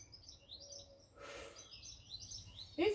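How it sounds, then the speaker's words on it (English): A large bird calls overhead above a quiet garden, its chirps and tweets drifting through, with a brighter burst of calls near the end. "There is a bird just above me, a big one, looking for mice"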